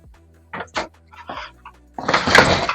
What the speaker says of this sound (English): that was just my printer I slammed